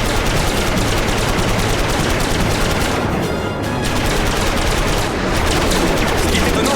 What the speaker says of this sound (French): Approche-toi plus près et continue à tirer.